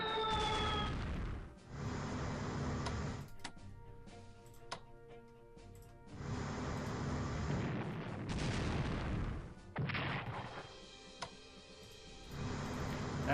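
Naval guns fire on a light cruiser in the strategy game Strategic Command: World at War, with several bursts of booming, crackling gunfire separated by short gaps, played back at moderate level.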